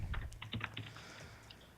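Keys on a computer keyboard clatter in a quick, uneven burst of taps, fairly faint and slightly distant, with no talking over them.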